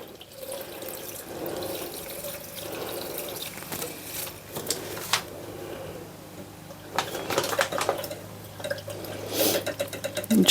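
A Dream Look make-up brush cleaner switched on and spinning brushes in liquid gives a low motor hum with watery swishing and splashing that grows louder and busier toward the end.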